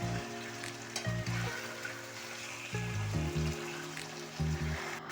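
Boal fish frying in oil in a pan, a quiet, continuous sizzle and bubbling heard close, with low hum and clatter from the stove in the background.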